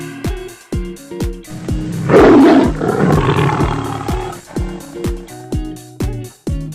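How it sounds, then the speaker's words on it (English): A lion roars once, loud and rough, over a bouncy children's rhyme backing track with steady plucked beats that play before and after the roar. "L for lion."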